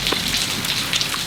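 Steady rain falling outside, a dense even patter of drops on a surface with a few brighter splashes, continuous and fairly close, with no talking.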